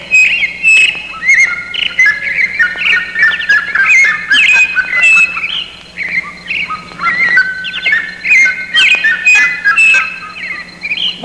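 Several songbirds sing in a continuous run of bright chirps and warbling phrases, fairly close and clear, with a steady low hum underneath and no talking.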